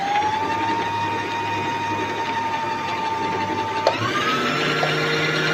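A Singer 2263 sewing machine runs steadily as it winds thread onto a bobbin, giving a constant motor whine with a faint mechanical rattle and a slight pitch shift near the end.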